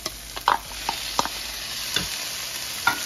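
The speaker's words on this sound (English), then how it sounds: "we're going to saute this up for a few minutes" Red and green peppers and shrimp sauté in a pan, with a faint continuous sizzle broken by scattered clicks and scrapes of stirring.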